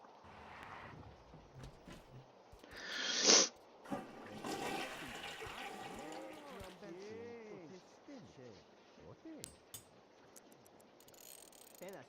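A toilet flushing in The Sims 2 life-simulation game, a brief loud whoosh of water near the start, followed by softer clunks and mechanical rattles amid quiet in-game ambience.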